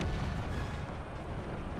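Heavy cannon artillery fire in the strategy game Empire 2 rumbles as a dense, continuous low barrage with booming blasts overlapping throughout.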